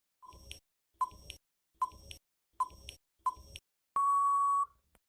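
Five short countdown beeps in an even rhythm, about one per second, end in one longer, louder tone in a quiet room.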